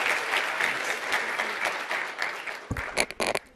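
Audience applause welcoming Senator Ferguson on stage at the MERIT Symposium 2017 in Baltimore, steady and dense clapping from a sizable crowd that thins into scattered louder claps at the end.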